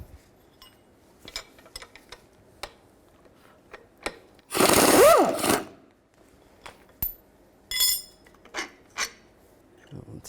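Strut bolts come out of a 2003-2007 Cadillac CTS front passenger strut with an 18mm wrench and socket: scattered metallic clicks and clinks, then a loud, rough grinding burst of about a second, followed by more ratcheting taps.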